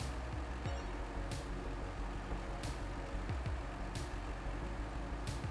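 A truck in the video game SnowRunner drives along with a constant low engine rumble, while sharp hissing bursts recur at regular intervals of about a second and a half, with no talk.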